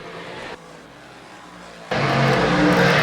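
Big block and small block dirt track race cars roar along the back straightaway of a racing oval, a loud sustained engine drone that drops briefly to a quieter rumble, then surges back louder as cars pass close.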